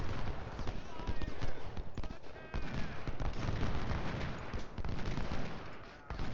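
Musket volleys in the Civil War strategy game Ultimate General crackle in dense, overlapping bursts at a moderate distance, continuing beneath a voice.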